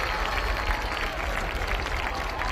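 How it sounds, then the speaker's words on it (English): A crowd in the stands at a high school football game, Bishop Lynch against Parish Episcopal, cheers steadily for the homecoming court, a dense, loud wash of applause and voices with no break. "They're not cheering for Preston Stone, unfortunately. They're cheering for the homecoming court."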